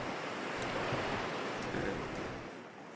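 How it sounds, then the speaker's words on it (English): Ocean surf rolls onto a beach as a continuous broadband wash, steady and fairly loud with slight swells, with no voices over it. "The waves are probably pretty loud."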